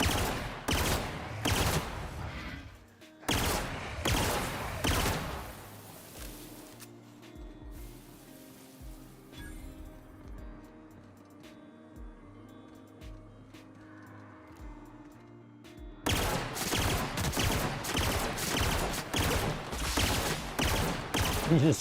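Rapid gunfire in The Outer Worlds, loud bursts of automatic shots at the start and again at the end, with a quieter stretch between them that holds scattered single shots and game ambience.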